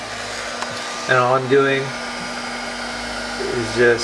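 A heat gun hums and blows air steadily in the background, a constant whirring tone beneath someone speaking over it.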